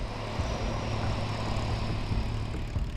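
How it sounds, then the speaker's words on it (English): Propeller engines of a Chalk's Ocean Airways seaplane, Flight 101 from Fort Lauderdale bound for the Bahamas, droning steadily and loudly at close range on a busy waterway near Miami, with no voices over it. "Chalk's Ocean Airways flies seaplanes in and out of this busy waterway"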